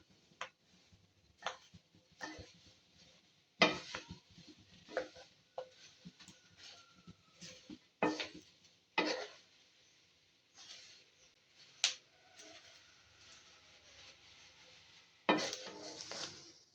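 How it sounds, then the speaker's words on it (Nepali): Gundruk, fermented leafy greens, stirred as it fries in a pan for achar: irregular sharp clicks and scrapes of a utensil against the pan, spaced a second or two apart, close and clear over a faint background sizzle, with no talking. "यो गुन्द्रुक फ्राई गर्दा हामीले चलाउँदै फ्राई गर्दै गर्नुपर्छ,"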